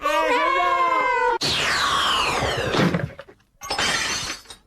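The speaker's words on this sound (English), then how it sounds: "It was just my smashing fun broken window simulator." A comic broken-window simulator gag bursts into loud glass shattering and crashing debris, following a sustained tonal wail, with a final burst of breaking noise.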